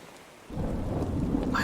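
Stormy weather in Animal Crossing: New Horizons, where a deep rumble of thunder rolls in after a short quiet moment and swells under a steady hiss of rain, loud and sustained.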